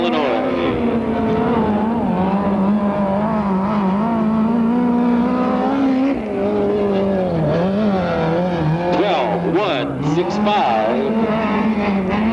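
USAC National and TQ midget race cars lap the Ventura, California track, roaring loud and continuous as engine pitch rises and falls through the turns. An announcer talks over the racing throughout.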